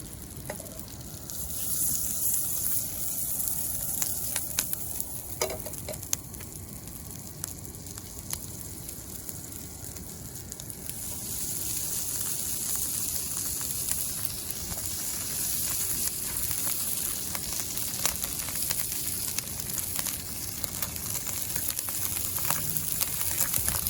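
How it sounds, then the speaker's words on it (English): Trout skin frying flesh side down in melted butter in a pan, giving a steady, dense sizzle and crackle that grows a little stronger partway through, close and continuous with no talking. "you're gonna get that butter melted, and then you're gonna put the skin flesh side down into the pan."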